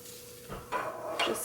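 A couple of light clinks and a clatter of a spoon being swapped out against a mixing bowl of vegan chocolate peppermint cookie dough, quiet and close, in two short bursts.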